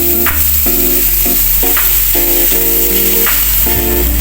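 Coconut milk from the first squeeze hisses and crackles in a hot frying pan while Taiwan milkfish is cooked ginataan style, a loud, steady sizzle with a low hum and faint tonal notes beneath.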